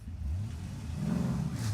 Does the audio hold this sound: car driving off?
yes